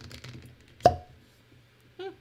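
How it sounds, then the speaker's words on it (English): A cork pops out of a bottle of bourbon with one sharp, hollow pop close by, amid low background talk and a brief voice afterward. "All right, pause for cork pop."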